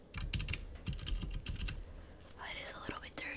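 Close, crisp clicks of computer keyboard keys being pressed in quick irregular bursts on a slightly dirty keyboard during an ASMR repair roleplay, followed by softer whispery rustling.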